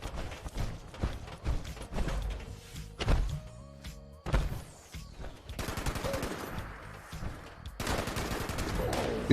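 Rapid automatic gunfire in Fallout 76, a dense run of shots, thuds and mechanical clatter with the weapon glitching and firing nonstop, loud and close with layered game effects and no talk.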